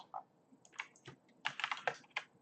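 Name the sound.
typing on a computer keyboard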